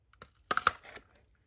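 Paper punch pressing a thumb notch into a mini paper envelope: a soft tap followed by a quick double crunch as the punch cuts through, quiet and close.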